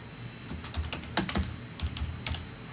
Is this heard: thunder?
no